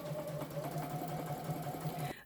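A sewing machine runs steadily as it stitches a bias tape hem. It gives a close, continuous motor whir with a rapid needle chatter for about two seconds, then stops abruptly.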